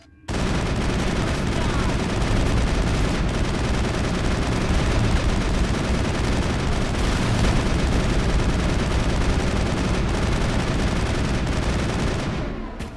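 Sustained gunfire from a Mass Effect firefight on Noveria, a dense continuous barrage of shots and blasts running loud and steady for about twelve seconds, with game combat noise throughout.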